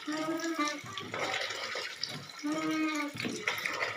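An indoor hand pump (poso) draws water inside a house, with repeated squeaky strokes over gushing, splashing water and voices in the background.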